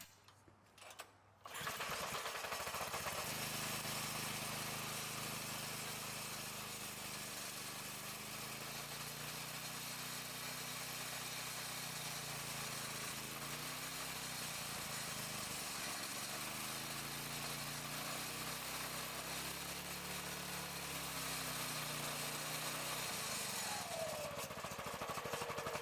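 A Predator 212 small gas engine, driving a generator in a series hybrid powertrain, starts up and then runs steadily and loudly for over twenty seconds, its note dipping and recovering under changing load before it cuts off.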